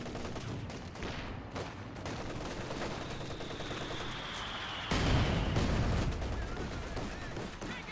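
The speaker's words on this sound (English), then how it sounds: "The flak half-track is an excellent suppression platform along with this MG34" Sustained automatic gunfire from an MG34 and a flak half-track in Company of Heroes 2, a dense continuous rattle of shots with a louder, heavier burst near the end.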